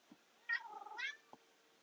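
A house cat gives a single drawn-out meow, close and fairly soft, with a faint chirp before it and a short squeak after, in a quiet room with no talking.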